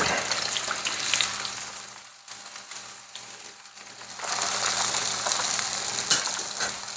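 Pompano fillets fry in a pan with a steady crackling sizzle that thins out briefly mid-way, then returns, close and moderately loud with no talking.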